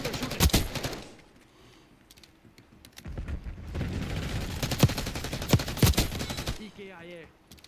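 Enemy sniper fire in Call of Duty Black Ops 6 comes as sharp, loud individual cracks mixed into dense in-game gunfire and clatter, with a quieter lull midway and a faint game voice announcement near the end.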